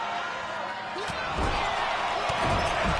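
A professional wrestler is slammed onto the ring mat, giving a few dull heavy thuds and bumps amid loud arena crowd noise while a commentator talks over the action.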